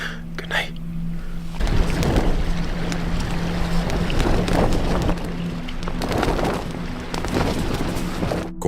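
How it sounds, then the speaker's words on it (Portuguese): A tent is battered by strong wind at a forest campsite, heard as loud, rough gusting roar and flapping rumble that swells after a quieter start, with some talk mixed in. "Com o vento batendo forte contra a barraca"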